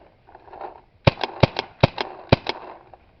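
A 1997 Autococker STO paintball marker fires about eight sharp, close pops in uneven pairs over faint background noise.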